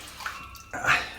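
Tap water running at a sink during a head shave: a soft splashing stream that surges louder toward the end, with no voices.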